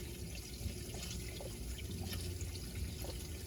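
Water runs steadily into a repaired fresh water tank, a continuous splashing, trickling flow at close range, even and unbroken with faint dripping detail and no talk.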